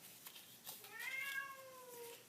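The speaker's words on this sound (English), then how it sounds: "That cat is not going to stop." A house cat lets out a long, rising then falling meow indoors, fairly close, following a few faint handling noises, with no talk over it.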